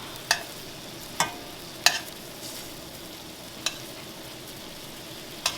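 Asparagus spears being turned in an uncovered pan on the stove, a few sharp clicks and scrapes spaced over a soft, steady sizzle with no talking.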